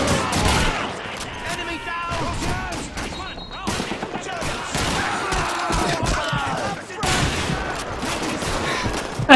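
Thompson submachine gun bursts in Call of Duty 2, rapid rattling fire mixed with other gunshots and battlefield chaos, loud and dense throughout with shouted voices underneath.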